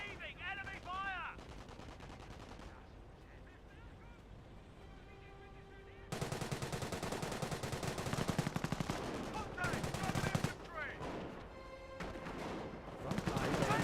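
Machine-gun fire and gunshots rattle in loud dense stretches during a Company of Heroes video game battle, broken by quieter gaps and in-game voices.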